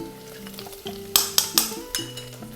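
Paprika is stirred into dry and fresh chili frying in oil, a light sizzle under several sharp clinks and scrapes of a utensil against the pan, close by, no voices.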